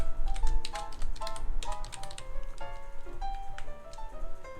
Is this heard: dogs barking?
no